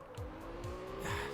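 A car drifting in Absolute Drift sends out a steady engine drone with repeated sliding tire squeals and chirps, close and continuous.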